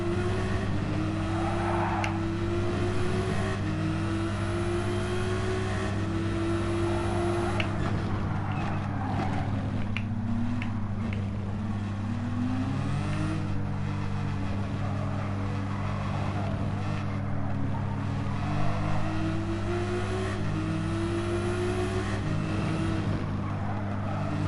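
A hypercar engine drones continuously during a Gran Turismo 7 league race, a loud sustained racing tone with shifting pitch and other cars passing.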